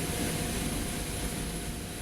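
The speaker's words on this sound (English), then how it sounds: "a flight that would last more than 3 hours in the back of a noisy cargo plane" Steady roar of a cargo plane's engines in flight heard from inside the cabin, broadband and unbroken with a constant drone, no voices.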